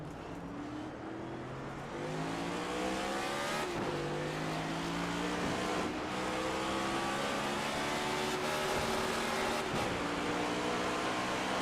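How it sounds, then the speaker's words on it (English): A race car engine in a racing video game sits on the rev limiter, buzzing loud and steady with rapid stuttering cuts and rising, falling harmonic whine, with no voices over it. "on that rev limiter"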